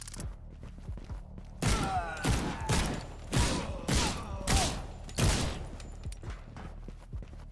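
Bursts of video game gunfire in a Skyrim parody game, a series of sharp repeated shots and thuds in uneven clusters, fairly loud, with brief game sounds between.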